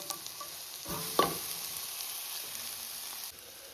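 Rice for veg pulao stirred and mixed in a frying pan, giving a steady low sizzle with soft scraping and one brief clatter near the start, close and continuous with no voices.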